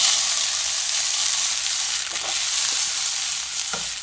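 Chopped onion and garlic sizzle steadily in a hot pan, a close, continuous hiss with a few soft scrapes and clicks of stirring.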